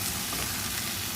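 Broad beans stir-frying in a pan give off a steady, dense sizzle that holds evenly and fairly loud throughout, with no voices.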